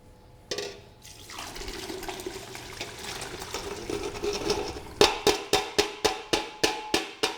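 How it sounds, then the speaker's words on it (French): A cooled spiced wine decoction poured through a chinois sieve, a steady liquid trickle and splash building gradually, then a run of regular sharp knocks or taps near the end, close and with no voices. "Je la passe dans le chinois pour ne prendre que le liquide."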